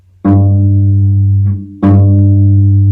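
A sustained bowed note on the cello's G string rings out, fades briefly, then is bowed again, loud and close with rich harmonics, no voices.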